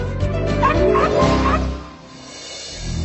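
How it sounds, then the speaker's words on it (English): Monica, the world's second smallest dog, lets out a quick run of high, thin yips and whimpers, close and fairly loud, before the sound trails off into quieter background noise. "the world's second smallest dog is Buddy's sister, Monica"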